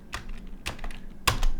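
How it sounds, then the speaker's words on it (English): Typing on a computer keyboard, a few distinct close key clacks spaced irregularly, the last ones louder, with no voices. "typing is difficult"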